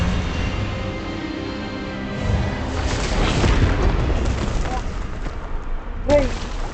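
Expelliarmus spell cast in Hogwarts Legacy on PC, a loud booming magical blast swelling under a voice speaking, followed by a sharp bright burst near the end.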